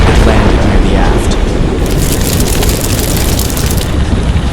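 A bolt of Greek fire striking a wooden sailing ship: a loud, sustained roaring blast of fire and explosion, dense and rumbling throughout with no pause.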